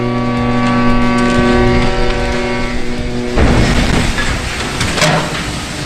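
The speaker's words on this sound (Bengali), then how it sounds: "sheep launch" A large ship is launched into the sea, heard as a loud sustained horn blast followed by a broad roaring rush and rumble with no talking.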